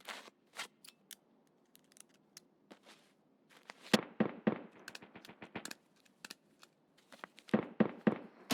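Gunfire in the video game Escape from Tarkov: sharp, crisp shots spaced out at first, then fast bursts of rapid fire in clusters, loud and close with quiet gaps between.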